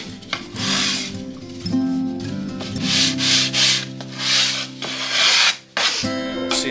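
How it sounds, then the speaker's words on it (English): Sandpaper of 100 grit rubbed back and forth over a flat wooden surface, a steady, close, gritty scraping in long continuous strokes with a brief pause near the end. "This flat surface, 100 grit, and I can sand it off."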